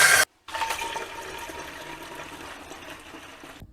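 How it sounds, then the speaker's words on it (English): Liquid is poured and splashes into a pump sprayer while mixing Wet and Forget with water, starting after a brief cut into a steady, close gurgling flow that gradually softens. "Just pour your wet and forget in a pump sprayer"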